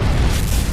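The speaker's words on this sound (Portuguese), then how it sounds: "mas talvez a explosão de uma supernova" Deep, loud rumbling boom of a supernova explosion sound effect, a dense low roar filling the whole brief moment without any break.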